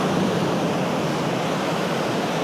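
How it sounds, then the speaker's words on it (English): Ocean waves roll in on a Western Australian beach near a sea cave in the morning, a constant close, full wash of surf and foam with some wind buffeting the microphone, no voices. "Let these waves roll in for a little bit."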